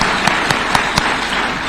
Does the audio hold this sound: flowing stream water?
no